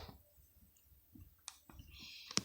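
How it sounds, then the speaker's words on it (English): Small plastic button on an AbergBest 21-megapixel digital camera pressed close up, giving a couple of sharp, faint clicks in an otherwise quiet room. "So let's click this back button."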